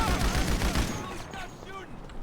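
Gunfire in GTA V Online, a dense burst of rapid shots loudest at first and then thinning out, with faint game sounds behind.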